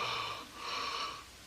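A single person's drawn-out yawn, an airy breathy exhale that swells, dips briefly and swells again before fading, close and fairly quiet.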